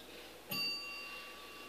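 At the Scripps spelling bee semifinal, a bell signals a wrong answer with a single sharp ding that rings on with a bright, fading tone over quiet room noise.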